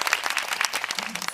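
Quick rippling applause from a small group, dense and steady throughout at moderate level, celebrating a favourite coffee cup received as a gift.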